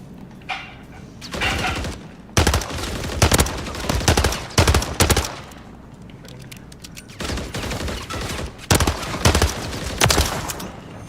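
Loud bursts of pistol fire in the shooter game Modern Warfare 3, several clusters of rapid shots separated by short pauses, close and dominant with no talking.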